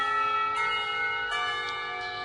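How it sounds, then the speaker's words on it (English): Clock tower bells ringing to mark the end of a school period, a few sustained resonant strikes overlapping with long ringing tones, moderately distant and without voices. "The clock tower bells ring, signaling the end of the period."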